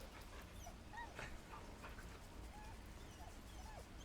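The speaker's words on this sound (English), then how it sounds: "We have a friend here, a dog." A dog whimpers softly in Baldur's Gate 3, faint high whines recurring over a low ambient game background with no talk.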